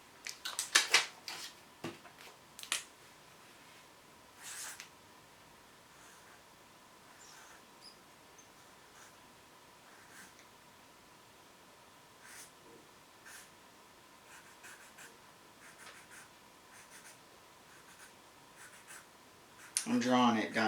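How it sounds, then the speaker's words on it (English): A pen scratches on paper while a tailless whip scorpion is sketched, soft intermittent strokes that are quiet and close, with louder bursts at the start and end and some talking. "I'm drawing it, guys, just to show you."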